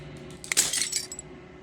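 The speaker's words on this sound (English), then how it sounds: "As the final fragment of glass shatters" Glass shattering in the horror game Slay the Princess: a short bright burst of breaking fragments, followed by tinkling shards that ring out and fade.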